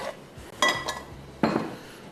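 A metal karahi is set down on the stove with a couple of clanking knocks, metal against metal, close and moderately loud with no talking.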